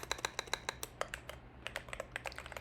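Close, crisp typing on a computer keyboard, a fast irregular run of sharp key clicks with a short pause midway before the tapping resumes.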